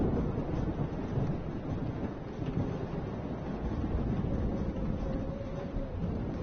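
Thunderstorm in the video game Life Is Strange, a steady dense roar of rain and rumbling thunder filling the scene, continuous and fairly loud with no voices.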